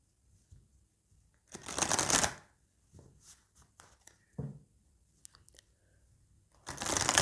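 A deck of love oracle cards is shuffled close up in a few quick riffling bursts separated by quiet gaps and light handling taps.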